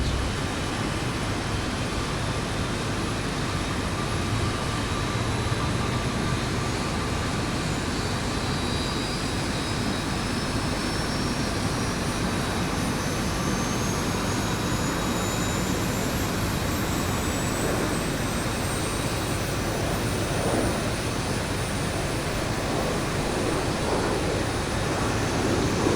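A jet airliner's number 1 engine spools up in the X-Plane 11 flight simulator. A dense, steady roar fills the sound, with a faint whine slowly rising in pitch, continuous and loud throughout.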